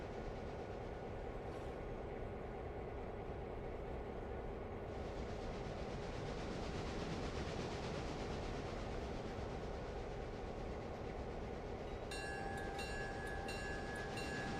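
Locomotive rolling on rails in the Realistic Railroader game, a continuous low rumble with steady wheel noise throughout, growing slightly brighter midway, with faint clicking tones near the end.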